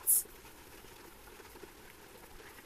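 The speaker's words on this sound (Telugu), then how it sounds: "కట్ చేసుకున్న ఉల్లిగడ్డలు వేసుకొని కొంచెం ఫ్రై చేసి లైట్గా ఉప్పు వేసుకోవాలండి" Chopped onions fry in hot oil with a light, steady crackling sizzle throughout, soft and close, broken by a brief high clink near the start.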